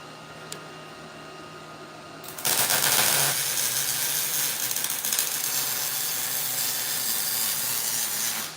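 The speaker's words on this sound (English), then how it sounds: "So while he's welding that up" Welding on a trailer attachment for a mining cart: after a quiet start, a loud, steady crackling buzz kicks in and carries on unbroken, close and harsh, with a faint hum underneath.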